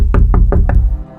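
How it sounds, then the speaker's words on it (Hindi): Four sharp knocks rap on a car's glass window, evenly spaced and loud, close by, followed by a low fading rumble with no voices. "किसी ने उनके शीशे पर दस्तक दी"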